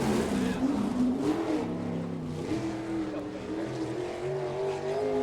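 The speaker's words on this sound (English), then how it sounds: "this is Frankie Kerr's old non-wing sprint car that Mike Miller's driving right now" A non-wing sprint car driven on a race track, its engine roaring steadily with shifting revs and a continuous loud drone, heard under a commentator's voice.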